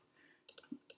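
Computer mouse clicks in short pairs, crisp and close, about five quick taps with a soft low thump between them, heard alone with no talking.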